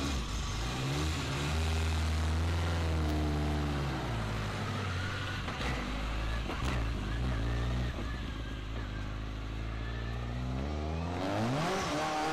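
Colin McRae's Ford Escort rally car heard from inside on a passenger ride, its engine loud and close, revving hard through repeated rising and falling gear changes with a constant roar and an occasional faint voice.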